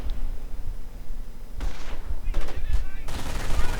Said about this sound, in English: MG adds in.